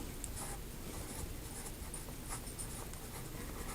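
A Cross Peerless 125 fountain pen with a Sailor Zoom nib drags steadily across paper, giving a soft, continuous scratchy hiss with faint stroke-to-stroke variation, close and alone.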